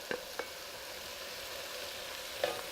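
Bacon and onions fry in a pan with a steady close sizzle, broken by a few clicks of a utensil stirring at the start and near the end.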